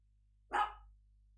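A dog gives a single short, sharp bark indoors, close and fairly loud against near silence, with a quick fade afterward.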